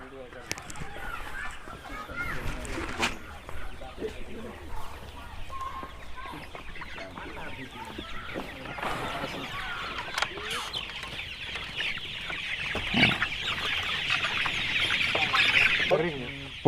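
Chickens in a farm coop cluck and chatter continuously, a dense flock sound under someone talking nearby.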